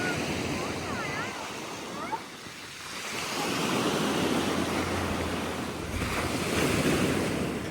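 Sea waves break and wash onto a beach in a steady, broad roar, mixed with gusty wind buffeting the microphone, while a voice speaks briefly early on.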